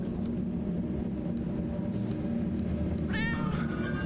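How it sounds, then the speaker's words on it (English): A cat meows in the video game Tokyo Dark, a short rising, harmonic cry arriving late over a steady background hum, fairly close and distinct. "Oh, a cat! Kitty cat!"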